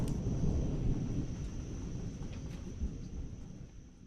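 Thunder from a lightning strike about 2 miles away, a deep rolling rumble that starts strong and slowly fades over several seconds, with a faint steady high tone running through the background.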